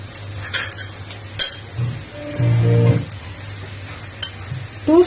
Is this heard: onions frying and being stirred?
yes